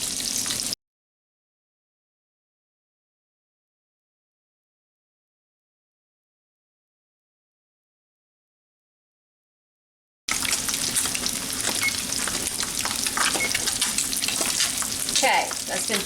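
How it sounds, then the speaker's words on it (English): A pan of fish fries for low-carb fried fish with a dense, steady sizzle and crackle. The sizzle cuts out after a moment, leaving a long silence, then returns just as loud with scattered pops and no voices. "Just let them sizzle away."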